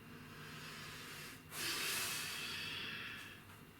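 A single deep breath drawn in through the nose during a yoga session, first a quiet hiss and then a louder rushing inhale that fades out, with no talk.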